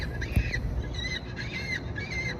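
An unidentified bird at the Grand Canyon gives a few harsh, rasping squawks in quick succession, fairly close and clear over a quiet outdoor background.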